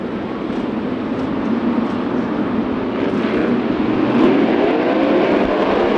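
410 sprint cars race at Knoxville Raceway during a heat race, a loud, continuous engine roar from the pack holding steady throughout with a slight swell toward the end.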